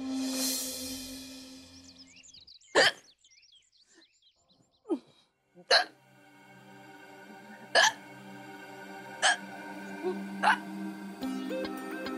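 A woman hiccups repeatedly, about six sharp, abrupt catches spaced a second or two apart, close by, with faint background sound and brief murmuring between them.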